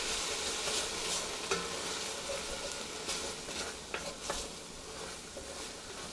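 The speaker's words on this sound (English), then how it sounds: "We're going to add a 1/4 cup of vodka, and we're going to use that to deglaze the pot." Quarter cup of vodka deglazing a hot pot for penne alla vodka, a steady loud sizzle with scraping and stirring clicks throughout, no voices.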